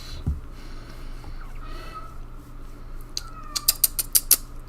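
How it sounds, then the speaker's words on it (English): A pet cat gives a run of short, fairly close meows near the end, after a quieter stretch with faint room noise and a soft thump early on. "Don't mind my cat."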